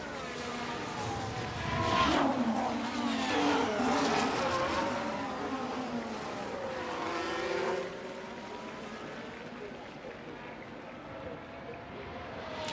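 Formula 1 cars lap a track in F1 Manager 24, including a Ferrari, with loud, high-revving engines rising and falling as they pass, overlapping whines that fade out toward the end.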